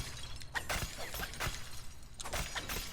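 Objects shattering in the video game Moss: Book II, heard as a quick series of crisp breaking and cracking bursts, fairly faint, against a quiet ambient background.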